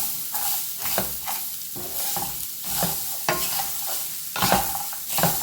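A chickpea salad with finely grated frozen coconut is mixed by hand in a bowl, with repeated soft scraping and stirring strokes in an irregular rhythm, close and fairly loud.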